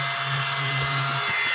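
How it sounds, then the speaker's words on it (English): A small vacuum cleaner running close by, giving a constant loud whirring hum with a steady low drone throughout, with no voices. "I keep forgetting that I have my fun little vacuum"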